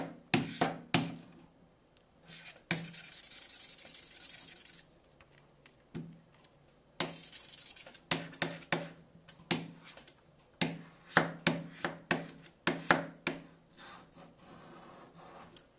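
Knife blade scraping across the back of a Samsung J7 Prime phone, a series of sharp scratches and short clicks in bursts, with two longer rasping strokes, close and fairly quiet.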